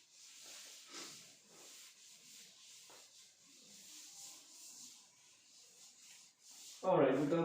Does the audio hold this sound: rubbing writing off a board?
yes